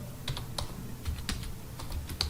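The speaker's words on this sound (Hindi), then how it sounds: "हमें जस्ट अपने कीबोर्ड से विंडो के साथ अप एरो की को प्रेस करना होगा" Keys clatter on a computer keyboard as the Windows and up arrow keys are pressed, with a handful of sharp, separate clicks close to the mic and no one speaking.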